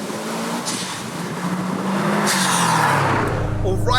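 A tuned 488bhp Subaru WRX STI roars loudly through a rolling launch, its engine note climbing steadily under load with a sustained, close-up rasp and a brief tire squeal near the end; people talk over it.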